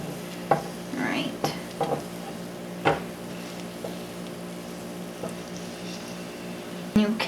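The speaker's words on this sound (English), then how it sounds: "See it starting to fry up the sides." A potato latke frying in oil in a pan gives a steady close sizzle, broken by a few sharp clicks and scrapes of a utensil against the pan.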